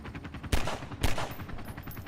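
Video game gunfire: two sharp, loud shots about half a second apart, with a fainter rapid rattle of shots continuing in the background.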